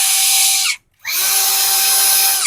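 A DEWALT cordless brushless impact drill with a 48-volt battery whirs at full speed, loud and close, stops for a split second, then spins up again and keeps running steadily.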